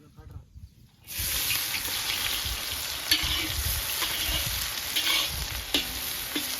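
Onions frying in oil in a village kitchen pan for fish curry, a loud steady sizzle that bursts in after a quiet second and holds with crackles and brief stirring scrapes.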